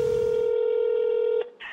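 A telephone is dialed, producing a single sustained steady tone that cuts off abruptly and is followed by a brief, softer second sound, with no talking.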